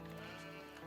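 A sheep's short wavering bleat in the real-time strategy game Age of Empires IV, a brief clear single call.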